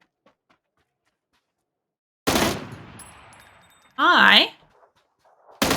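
Video game gunfire set to burst mode: one loud burst of shots cracks out and trails off, a spoken word follows, and another sharp burst starts right at the end.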